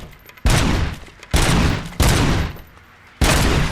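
Gunfire from a new gun at target practice in the video game RoboCop: Rogue City comes in four loud, sharp bursts, each a rapid volley with brief lulls between them.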